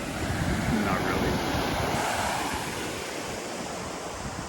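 Ocean waves rolling in at Sayulita beach, a loud, continuous broadband wash of surf with wind buffeting the microphone throughout, no distinct breaks between swells.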